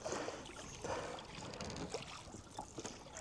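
Wind gusts around a bend of the River Stour during a canoe trip upstream from Cattawade, a steady broadband rush with soft buffeting swells and faint watery trickles, no voices.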